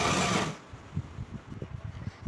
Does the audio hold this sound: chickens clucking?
no